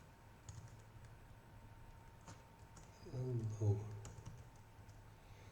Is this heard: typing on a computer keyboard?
yes